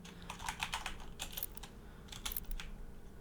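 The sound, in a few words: typing on a computer keyboard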